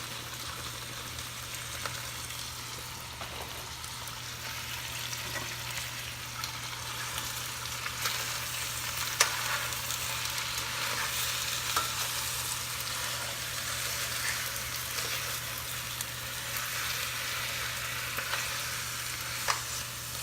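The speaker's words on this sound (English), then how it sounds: "So the next thing I'm going to add is this spinach" Fresh spinach frying and being stirred in a hot stir-fry pan, a steady close sizzle and crackle with faint scraping, continuous for the whole stretch with no talk.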